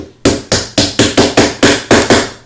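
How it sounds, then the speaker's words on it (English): Nine sharp, loud hammer strikes in a steady rhythm drive a snap pin into a 3D-printed Raptor Hand braced on a table edge, each blow ringing briefly before the next. "I do usually use a little bit of a hammering on this one as well"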